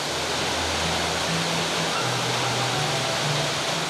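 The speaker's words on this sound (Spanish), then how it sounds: "Sus aguas cristalinas nacen en la reserva Cotacachi-Cayapas y forman un espectáculo de 7 cascadas." A waterfall on the Chuchubí river, part of a series of seven cascades, gives a steady, dense roar of rushing water with no talking.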